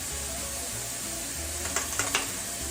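Lamb loin chops fry in garlic butter with a steady, close sizzle that crackles continuously, broken near the end by a few light clicks of cookware.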